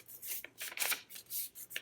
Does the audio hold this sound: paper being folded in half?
yes